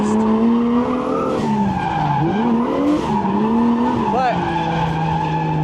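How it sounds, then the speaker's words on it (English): A BMW with a swapped-in 1JZ engine slides with its tires skidding, a loud continuous squeal that wavers in pitch over a straining engine, near and sustained, with a voice speaking briefly over it. "it's a really easy car to slide, as you see"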